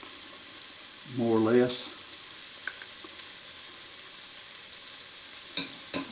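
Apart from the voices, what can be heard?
garlic sizzling while frying in a pan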